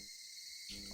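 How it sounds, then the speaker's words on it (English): Higurashi cicadas crying in the video game Higurashi When They Cry, a faint, steady high-pitched insect drone that holds throughout, with a slight swell near the end. "they're called cicadas. They come out and it's this exact sound."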